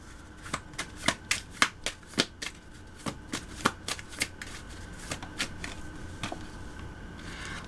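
A deck of self-care cards being shuffled by hand, a quick run of sharp riffling bursts and slaps, close and fairly loud with no talk over it.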